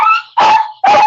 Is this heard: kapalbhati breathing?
no